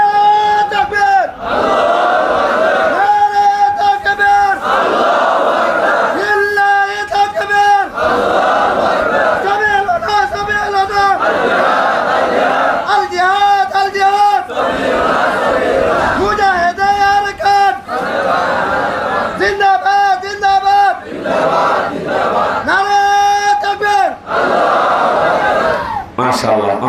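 A large crowd at an Islamic religious gathering answers a takbir call with loud, rhythmic chanting in repeated bursts, each shouted phrase followed by a brief pause, keeping a steady pulse throughout.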